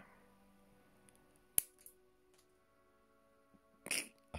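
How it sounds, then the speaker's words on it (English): A single sharp snip of scissors, followed moments later by a brief ping as the cut-off piece flies away, both quiet and close in an otherwise hushed room. "I want to just snip just above it. And this is going to go ping."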